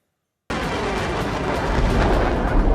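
Heavy rumbling blasts and crackling roar from a Russian missile strike on the Ukrainian city of Ternopil, dense and continuous after a half-second of silence, loud and sustained with rolling booms.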